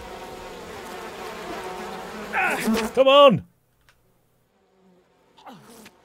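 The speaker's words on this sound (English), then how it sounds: "Fortunately, those bees do kill people." Bees buzz loudly in the We Happy Few video game, a dense continuous drone that swells and then cuts off suddenly, with a brief shout from a voice near the end.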